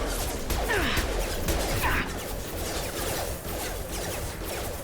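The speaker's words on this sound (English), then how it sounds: "I think glass breaks." Glass breaking in the video game Mass Effect 2, a couple of sharp crashing shatters early on against a low rumbling game soundscape, fairly quiet overall.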